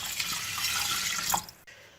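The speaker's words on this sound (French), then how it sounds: "Donc là, je vais venir mettre un peu d'eau." Water runs from a tap and pours into a saucepan of sushi rice, a steady close hissing splash that stops abruptly near the end.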